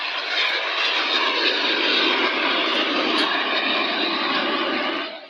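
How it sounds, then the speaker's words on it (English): Steady, loud roar of a jet fighter's engine, a World War II Messerschmitt Me-262, holding a broad, even rush of sound for about five seconds before dropping away at the end, with no voices. "They built jet fighters like the Messerschmitt Me-262."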